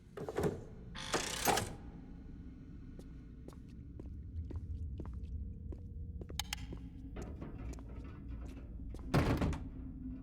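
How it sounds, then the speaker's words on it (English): A door that will not open in The Dungeon Experience game, heard as a couple of dull thunks and rattles early on, then a run of faint clicks and a final heavier knock near the end. "The door refuses to open"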